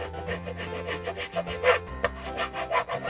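Part for a WPL C74 JA11 Jimny RC model is filed down by hand with short, close, rasping strokes that repeat in an uneven rhythm, with no talking.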